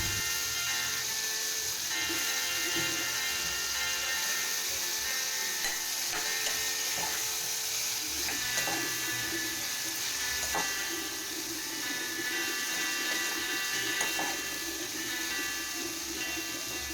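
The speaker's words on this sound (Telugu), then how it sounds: "కట్ చేసి పెట్టుకున్న వంకాయలు యాడ్ చేసుకోవాలి. బాగా మిక్స్ చేసేసుకొనేసి" Eggplant pieces for a tomato curry hit hot oil in a pan and are stirred, giving a loud, continuous sizzle and hiss with faint scraping of the spoon throughout.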